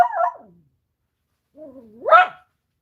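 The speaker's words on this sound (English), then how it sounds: "I don't think I can deal with this dog anymore" A dog gives two short, voiced bark-like vocalizations separated by a pause, fairly close and clear against otherwise silent surroundings.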